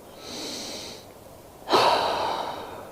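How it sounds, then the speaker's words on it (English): Two breaths during a yoga flow: a soft, airy inhale that fades, then a louder, rougher exhale that tapers off slowly. Both are close and heard with no talk. "Let's take 2 last breaths."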